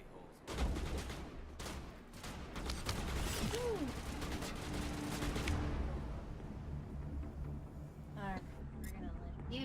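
Rapid turret gunfire rattles in the Mass Effect 1 game during the Virmire mission, a loud run of mechanical bursts lasting several seconds before fading into quieter effects, with voices nearby.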